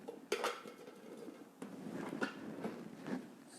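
Fresh strawberries tumble into an empty Thermomix bowl with a sudden clattering thud, then a rolling, rattling jumble of fruit and container knocks for a few seconds, close and moderately loud.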